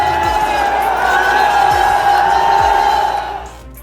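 A large crowd at Chandrashekhar Azad's Azad Samaj Party rally in Indira Gandhi Stadium, Delhi, roars in a dense, sustained wash of cheering and shouting, with a few low thumps beneath it. The noise fades toward the end.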